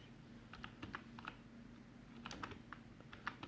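Computer keyboard typing during quantity estimation work, with scattered key clicks in two short bursts and a firmer Enter press, close and fairly quiet over a low steady hum.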